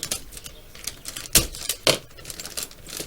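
Blade cutting open the packaging of an MPC Star Wars speeder bike model kit, heard as close, crisp clicking and crackling with two sharper snaps and no talking.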